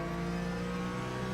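A race car engine in the iRacing video game whines at a steady pitch for a brief moment, a constant mechanical drone heard alone with no voices.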